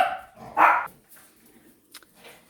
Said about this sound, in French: Avec les chiens qui ont aboyé, c'est pas très agréable.